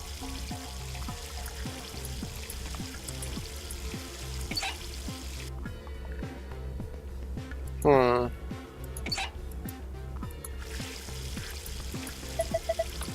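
Water gushes from a faucet in the video game Zero Escape: Virtue's Last Reward, a few seconds of steady pouring over looping rhythmic game music.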